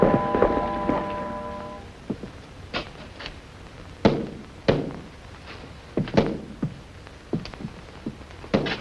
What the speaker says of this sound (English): I wish you didn't have to hear them putting up the scaffold